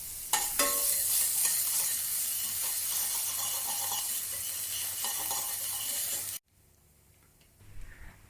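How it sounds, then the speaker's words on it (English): Garlic, ginger and bò kho spice powder sautéing in oil, with a loud, close, steady sizzle and light stirring that suddenly drops away, leaving faint rustles. "Saute the aromatics and the spice powder with some oil."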